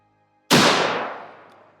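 A single loud gunshot as a round strikes armor, sharp crack after a brief silence and then a long decaying reverberant tail.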